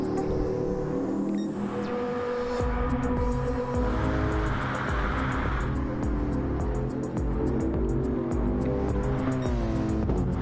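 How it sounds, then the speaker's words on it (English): GT race cars in the Hankook championship circulate on an out lap warming cars and tires, with a steady loud engine drone, passing cars and brief tire squeal continuing throughout, no talk. "As everybody is on the out lap, warming up the car, warming up the tires."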